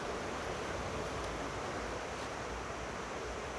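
Waterfall rushing in the Alpes-Maritimes backcountry, a steady broadband roar of falling water heard alone, fairly faint and unchanging throughout.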